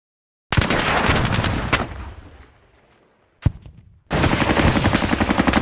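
Rapid bursts of gunfire from the video game Squad Battles Eagles Strike: a loud stretch of rattling shots, a lone sharp crack after a brief lull, then another dense volley of rapid fire.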